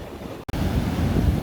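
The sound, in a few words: ocean waves breaking at the edge of the water line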